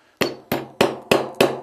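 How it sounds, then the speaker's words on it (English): A hammer taps a coil roll pin into an M&P45 pistol frame during a trigger install: five sharp, close metallic strikes at a quick, even pace, each ringing briefly. "I'll take my hammer and begin seating the pin"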